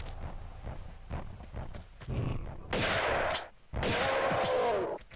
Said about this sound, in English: let's shotgun him